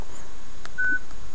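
A mobile phone keypad gives a single brief, steady electronic beep from a key press, clear over a constant background hiss.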